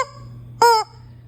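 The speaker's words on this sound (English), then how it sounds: "Get out of here, chicken." A chicken lets out a single short, loud squawking cluck close by, rising sharply from a quiet background with a low steady hum and then falling away; no one talks.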